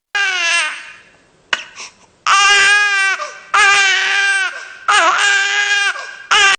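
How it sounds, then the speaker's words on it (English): A tiny baby, one of two infants left alone, hungry and cold, cries in loud, desperate bursts, several wailing sobs broken by brief pauses and whimpers, close and alone with no talk. "A tiny, desperate cry."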